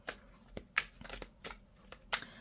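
Cards being handled and drawn during a card reading, a series of crisp close papery flicks and slides, several separate swipes spaced irregularly over quiet background.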